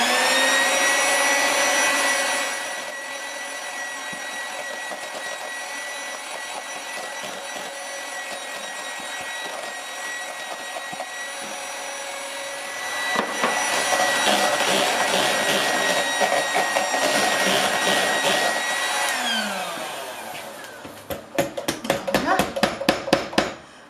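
An electric mixer whips cake batter for a strawberry cake in a home kitchen, a steady high whine that shifts pitch partway through, then rattles against the bowl near the end.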